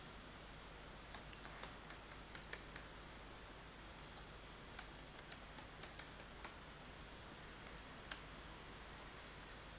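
Faint, sparse keyboard typing while a C program is written, scattered clicks and short bursts of keystrokes over a steady background hiss, no talking.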